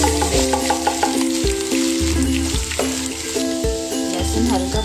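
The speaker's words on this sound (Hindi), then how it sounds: "ये हमारा तेल गर्म हो चुका है, इसमें डालेंगे आधा चम्मच राई।" Garlic and mustard seeds frying in hot oil for a Rajasthani garlic chutney, giving a steady close sizzle with stirring clatter and a repeating low rhythmic thump throughout.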